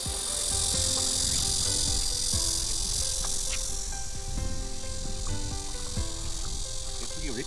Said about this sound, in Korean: 메뚜기 왜 이렇게 많아?